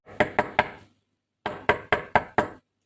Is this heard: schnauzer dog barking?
no